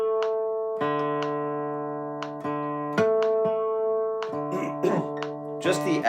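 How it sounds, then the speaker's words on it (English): A guitar's D string is plucked repeatedly while being tuned, ringing notes sounding one after another against other strings, with a few brief scrapes and taps between plucks. "Just the act of tuning"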